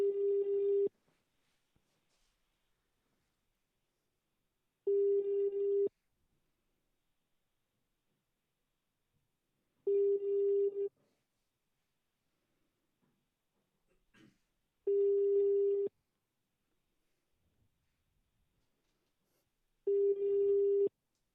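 Telephone ringing tone while a call is placed: five steady one-second tone bursts, one every five seconds, with near silence between, clean and fairly loud.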